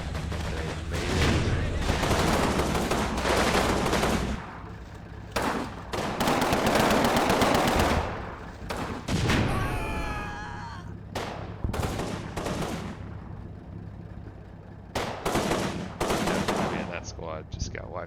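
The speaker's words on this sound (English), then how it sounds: "Maybe the anti-tank guns are shooting at them." Sustained bursts of gunfire and heavy anti-tank gun shots from the Combat Mission war game, loud and dense, with rapid machine-gun volleys, sharp blasts and a brief whistling sound partway through.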